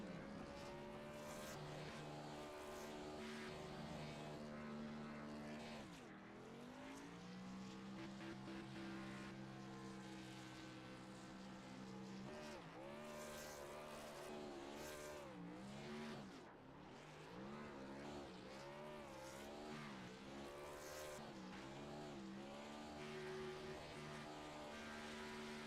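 A race car spinning big donuts at Nashville Fairgrounds after an AARN O'Reilly's Series race, its engine wailing continuously with rising and falling revs and tire noise, loud and close with no talk over it.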